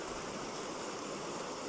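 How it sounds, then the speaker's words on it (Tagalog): Steady broadband rush of a flowing stream, continuous and close, with no voices over it. "Pakinggan nyo po yung kanyang tunog o yung agos ng tubig."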